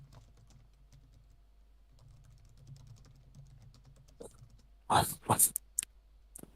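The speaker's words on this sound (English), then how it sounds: "Are you typing in?" Soft keyboard typing patters quietly under a low hum, followed by a few louder sharp clicks or knocks near the end, with a brief spoken word.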